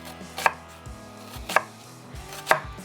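Kitchen knife slicing down through an onion close to the root on a cutting board: three crisp, evenly spaced chops about a second apart, near and moderately loud, with no talking.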